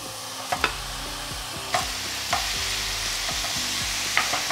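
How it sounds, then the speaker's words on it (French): Grated courgettes fry in olive oil in a hot pan over medium heat, a steady close sizzle broken by several clinking stirs of a utensil against the pan. "Dans une poêle, j'ai mis un filet d'huile d'olive. Et quand c'est assez chaud, je vais ajouter les courgettes."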